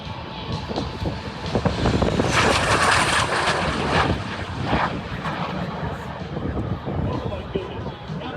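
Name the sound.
T-33 two-seat jet trainer aircraft flying past at airshow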